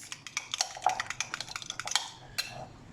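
A spoon clinks and scrapes in a bowl in quick, irregular taps, mixing chili garlic sauce into a mayonnaise chana salsa, close and fairly quiet.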